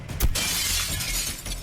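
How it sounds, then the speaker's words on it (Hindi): Glass breaking in a bank-robbery challenge game, a sharp burst of shattering near the start followed by a dense rattling tail of falling shards and debris. "ये कांच तो चकनाचूर हो गया"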